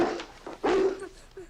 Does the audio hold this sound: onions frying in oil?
no